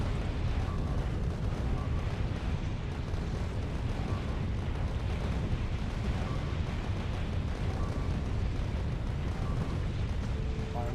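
Rockets fire and explode without pause in the factory-building game Factorio, a dense, steady roar of blasts and booms that stays loud from start to end.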